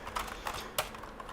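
Soft, irregular keystrokes tap on a computer keyboard at close range, with a few sharper clicks standing out against a quiet room hum.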